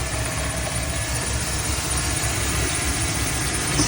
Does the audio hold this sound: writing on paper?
no